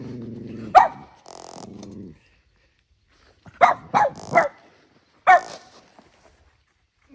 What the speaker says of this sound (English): You probably hear some coyotes.